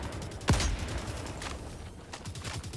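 Devastator enemies fire guns in Helldivers 2, with one sharp, loud shot up front followed by a ragged string of fainter distant bursts and rattling gunfire.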